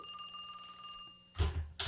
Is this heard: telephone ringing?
yes